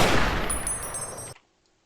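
Gunfire in the video game Fallout New Vegas: a loud, dense burst of rapid shots lasting over a second, then cutting off abruptly into near silence.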